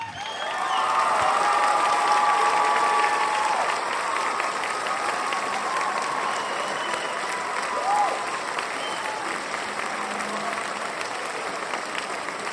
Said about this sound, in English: an Earthkeeper standing round of applause for the amazing Graham Hancock, please.